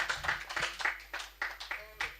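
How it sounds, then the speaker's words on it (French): Hands clapping in a church congregation, a quick run of about ten sharp claps with no steady rhythm, fairly close and moderately quiet, with no voices over them. "Je veux que tu applaudisses pour que la gloire revienne à Dieu."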